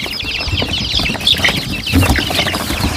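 Chickens, young birds sold on a farm in Salem, cluck and chatter close by in a steady, busy stream, with a few sharper squawks standing out.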